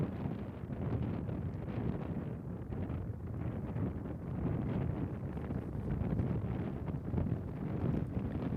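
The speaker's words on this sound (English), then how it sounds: "There was such a ripping headwind left to right" A strong left-to-right headwind rips across a disc golf course at the Portland Open, buffeting the microphone in a continuous low, gusting rumble with no voices.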